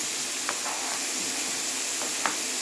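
Chicken browned in a pan with mushrooms and vegetables added, frying with a steady broad sizzle and a few brief stir clicks, no voices.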